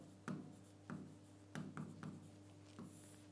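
Chalk or marker writing a heading on a board in a classroom, a series of short scratchy strokes in irregular rhythm, quiet and close.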